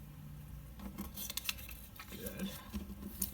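Scissors cut clear adhesive pocket material, a few quick crisp snips and faint rustling close by, at low level with no talking.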